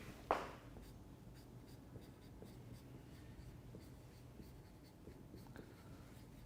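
Marker strokes squeak and scratch on a board during a chemistry lecture, starting with a sharp, louder stroke and then lighter intermittent scribbles over a low steady room hum.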